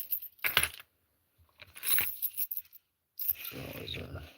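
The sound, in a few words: keys on a lanyard jangling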